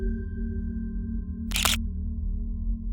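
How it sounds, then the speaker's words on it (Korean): A single camera shutter clicks once, crisp and close, over a steady low hum in an abandoned village. "나는 기념으로 몇 장의 사진을 찍었다."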